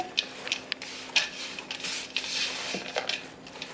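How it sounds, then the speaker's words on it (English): Pudding batter with ground almonds is stirred in a bowl, giving soft irregular scrapes, squishes and light knocks against the bowl, faint and close with no talk. "Just keep mixing."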